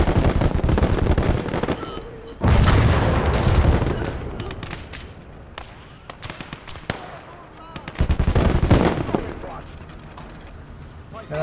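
Mortar blasts and heavy gunfire in a Motherland video game battle, loud dense bursts with big booms near 2.5 and 8.5 seconds, sustained crackling fire between, with voices faintly under the din.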